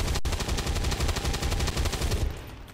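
Rapid gunfire from a tactical squad battle in the video game XCOM 2, a dense burst of repeated shots rattling for about two seconds before cutting off, loud and alone with no talking.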